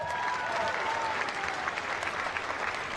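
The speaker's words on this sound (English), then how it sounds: "put your hands together again for Eugenie Bouchard" Steady applause from a tennis crowd at the Hobart International for Eugenie Bouchard, a dense, continuous clapping that fills the space with faint voices mixed in.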